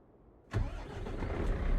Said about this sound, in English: after I had started the engine